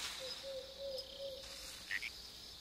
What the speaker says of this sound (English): Oh, it's a frog.